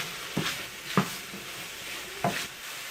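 Mushrooms fry in a pan with a soft continuous sizzle, punctuated by a few sharp stirring scrapes and clatters at irregular intervals, close up in a home kitchen.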